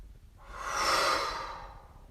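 A long, deep exhale released through the mouth during a guided relaxation, a soft breathy rush that swells and fades over about two seconds, close and alone with no talking.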